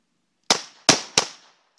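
Gunshots fired at a target ring out as three sharp, close cracks in quick succession, each with a brief decaying tail, with silence before and after.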